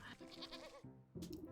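A sheep in the video game Wytchwood bleats in two short, wavering calls separated by a brief pause, faint and alone.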